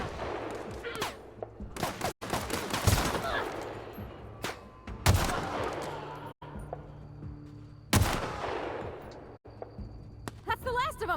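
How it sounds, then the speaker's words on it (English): Hunting rifle gunfire in the video game The Outer Worlds: loud, booming shots ring out every few seconds amid dense, noisy battle sounds, with occasional talk mixed underneath. "All right, that hunting rifle put it on them"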